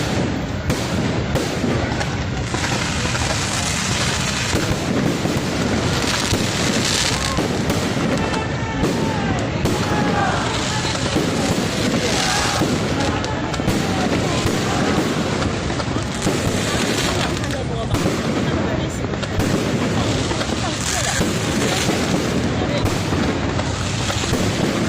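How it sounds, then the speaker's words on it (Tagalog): A fireworks display at the La Naval de Manila feast booms and crackles continuously, dense overlapping bursts and popping filling the air loudly for the whole stretch, with crowd voices mixed underneath. "meron lang silang mga fireworks display"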